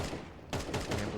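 Rapid bursts of gunfire in Counter-Strike 2 during a competitive match, a dense rattling spray that cuts in sharply halfway through and continues in repeated close volleys.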